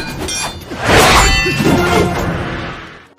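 Clay jars clang and shatter during a martial arts film fight atop a stack of jars, with sharp ringing hits, a loud crash near the middle and a cascade of breaking pottery fading out.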